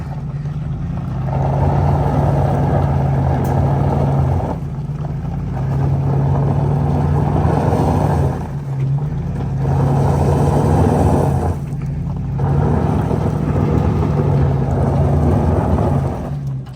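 A 1962 Massey-Ferguson 35 Super Deluxe tractor engine runs with a loud, steady low drone that rises and dips in repeated throttle cycles, close by, with no talk over it.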